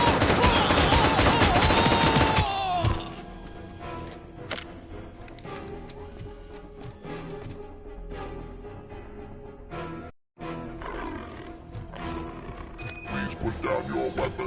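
In a RoboCop video game, the ED-209 robot attacks with loud, rapid gunfire at first. The firing then gives way to quieter, uneven clatter and game noise, with a brief dropout near the end.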